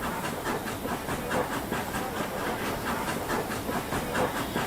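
A coal-fired steam locomotive in the American West hisses steadily with a pulsing chuffing rhythm, a dense broad rushing noise with faint mechanical clatter, moderately loud and without talk.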